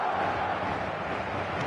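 A boisterous capacity crowd fills a stadium with a dense, steady roar of cheering and chanting, loud and continuous throughout with no single voice standing out.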